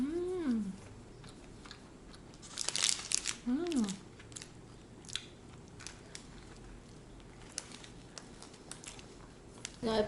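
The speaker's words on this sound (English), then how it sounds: "the more you chew on the pastry, the bread part is really good" Soft, close chewing of a vanilla pastry with moist squishy bites and light crinkling of packaging, quiet and intermittent, with brief vocal murmurs in between.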